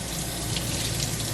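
Tap water runs steadily into a kitchen sink while doves are rinsed of heavy cream, a dense, even splashing hiss with no voices.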